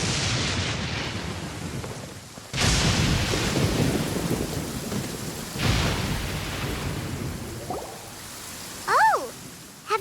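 A thunderstorm with rain in the Genshin Impact video game: heavy steady rain under repeated deep rumbling thunderclaps, with a few brief voice-like sounds near the end.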